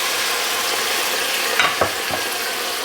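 White wine splashed into a hot pan of onions, a loud continuous sizzle with a couple of brief bursts as the liquid hits, close and steady throughout.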